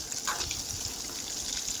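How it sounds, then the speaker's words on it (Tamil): Ground spice paste poured from a grinder jar into a pan for a brinjal gravy, giving a soft, wet gushing flow close by, steady and fairly quiet with no talk. "இப்போ நான் அரைச்சதை ஊற்றிக்கிறேங்க"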